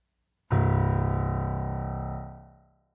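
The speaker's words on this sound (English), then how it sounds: "The lowest C note on a piano is called C1." A single deep C1, the lowest C on a piano, struck once, ringing with a rich buzzing low tone and slowly fading out over about two seconds.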